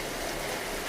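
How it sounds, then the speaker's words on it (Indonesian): Heavy rain pours in a forest setting as a dense, constant hiss with no breaks, steady and fairly loud, no voices over it. "di situ hujan masih deras ya"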